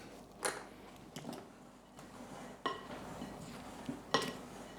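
Spoon or utensil clinking and scraping in a mixing bowl while figgy pudding ingredients with cinnamon, salt, ginger, allspice and nutmeg are stirred together, a few sharp knocks spaced over a quiet background.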